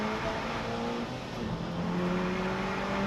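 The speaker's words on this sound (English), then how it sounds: "Mark Wakefield, who accelerates up across the timing line" A VW Cup race car at Croft accelerates hard across the timing line, a loud, steady engine drone rising in pitch as it passes close by, alone without talk.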